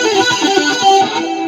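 Distorted electric guitar with a sustained, buzzing tone as the unmuted G string rings along, messy and dense, played close and loud.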